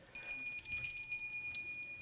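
A small bell rings during a stage play of It's a Wonderful Life, a bright sustained tone struck repeatedly in quick succession, then left to fade out on its own.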